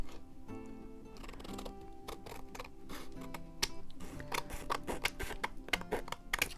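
Scissors snip through paper while someone cuts around an envelope used as a pattern. The snips come as a steady run of sharp clicks over a continuous background hum, close and fairly loud.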